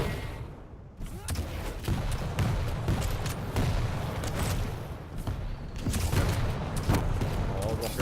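Rocket launcher fire in a Quake Champions duel: repeated booming blasts and thuds land in quick succession over busy game noise, with a commentator talking throughout.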